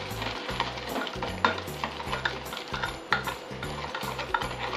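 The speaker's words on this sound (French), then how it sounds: "Donc vous continuez à mélanger à l'intérieur" Mixture stirred briskly in a bowl while preparing holiday appetizers at home, giving a steady run of scraping, clicking strokes close by, with no talking.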